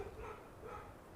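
Dogs in a housing society bark at a woman arriving in the early morning cold, two short yelping barks close by and fairly quiet, with no talk over them.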